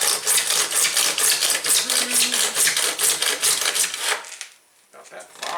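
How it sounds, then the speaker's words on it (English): A handsaw cuts through PVC pipe in quick, steady back-and-forth strokes, loud and close, then stops briefly near the end before a final stroke. "Plain and simple, just using a handsaw for"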